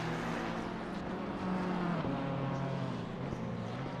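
A BMW M4 GT3 race car at Imola in Assetto Corsa Competizione holds a steady engine drone, its pitch climbing and shifting through gear changes, alone and fairly loud.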